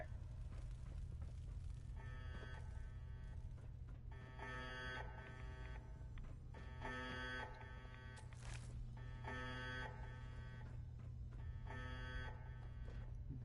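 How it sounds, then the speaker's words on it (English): An alarm blares inside the video game Fallout 4, repeating buzzing tones in regular bursts about every two and a half seconds over a constant low electrical hum, loud and mechanical with no talking. "Really loving the alarm."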